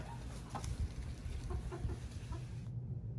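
Several young hens clucking softly inside a backyard coop, a steady murmur of overlapping low clucks and chirps close by, with no talk, ending in a brief near-quiet moment.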